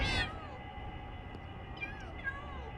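A cat in the Minecraft video game gives a sharp meow at the start, then a couple of fainter meows follow over a steady hum of game audio.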